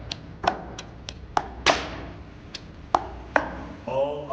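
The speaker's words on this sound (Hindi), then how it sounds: "ये कूटेगा इसमें, ये कूटेगा और फिर बाद में इसको सही बनाएगा।" Onion and chillies for a wild rabbit dish are pounded with sharp, separate thuds at an uneven, unhurried pace, about a dozen close strikes, followed by a faint rattling scrape at the end.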